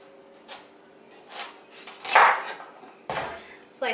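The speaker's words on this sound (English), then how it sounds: "what I like to do is just slice off a little bit at the end" A kitchen knife cutting the end off a spaghetti squash, several close, scattered thuds and scraping crunches against a cutting board in an otherwise quiet kitchen.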